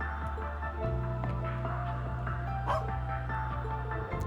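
Cerberus, a god dog in the video game Trails into Reverie, lets out dog barks and yips over a steady low game music bed, fairly close and moderately loud, with no talking.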